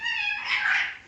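A cat meows once in a long, drawn-out, fairly loud cry that rises and wavers before trailing off, close by with no talking.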